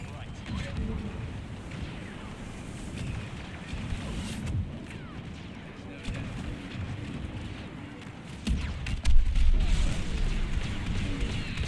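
Blaster gunfire and explosions in a Star Wars video game as shots hit a walker's legs, rumbling booms and crackling shots under a player's talk, with a heavier low blast near the end.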